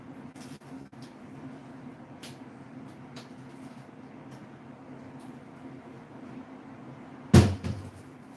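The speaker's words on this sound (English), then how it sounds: "Granny, she make a lot of noise if she closing doors" A door slams shut once, loud and close, with a short rattle afterward, following several quiet seconds of low room hum and faint knocks.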